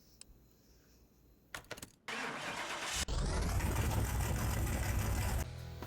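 Ford F100 truck with a 429 Cobra Jet V8 in Car Mechanic Simulator 2021: a few clicks and a brief starter crank, then the engine catches and settles into a loud, steady idle before cutting off near the end.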